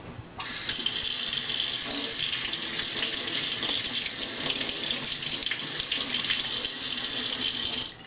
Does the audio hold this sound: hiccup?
no